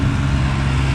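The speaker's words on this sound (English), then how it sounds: "Oh, these are tractor here" A tractor engine rumbles close by, a loud, steady low drone that holds without a break through the whole moment, with no voices.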